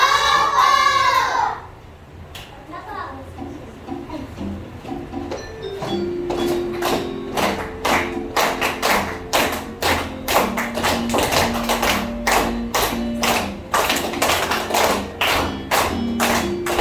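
Children clap a steady rhythmic pattern together while singing a Filipino folk song in a classroom, sharp, even hand claps continuing under the voices after a brief sung opening.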